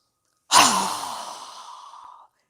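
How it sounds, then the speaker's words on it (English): One strong breath pushed out through the mouth during a yoga breathing exercise, a close, loud breathy whoosh that starts sharply and tapers off over almost two seconds. "we're going to exhale through our mouth with a strong exhale as we lower our arms down"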